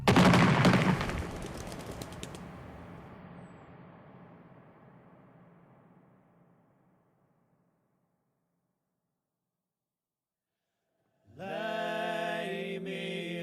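A firing squad fires one sharp rifle volley at close range. The echo then decays slowly into silence over several seconds, and a sustained musical tone starts near the end.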